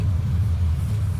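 The ADAT, a Canadian air-defence vehicle in Wargame: Airland Battle, rumbling as it starts moving, with a steady low engine drone close by and no other sounds.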